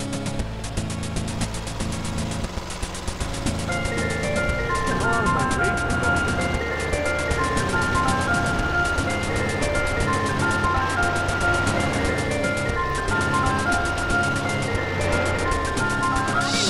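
In GTA San Andreas, the Mr. Whoopi ice cream van plays its tinkling chime melody in repeated phrases over a running engine drone, steady and fairly loud for most of the stretch.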